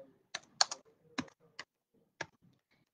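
Keys clack on a computer keyboard in short, irregular bursts of separate clicks with quiet gaps between them, close and alone.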